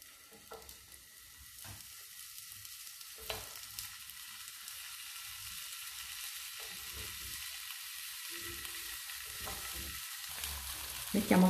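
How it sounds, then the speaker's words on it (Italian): Zucchini slices fry in a hot pan coated with a thin film of oil, giving a steady soft sizzle with occasional clinks and scrapes of handling throughout. "La padella è già calda, mettiamo un filo di olio"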